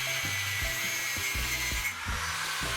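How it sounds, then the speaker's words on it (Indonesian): A saw cuts through a welded mild steel plate joint, making steady rhythmic back-and-forth rasping strokes, close and fairly loud, with no talking. "Kita coba potong hasil sambungan las untuk melihat besar penetrasi las yang terjadi."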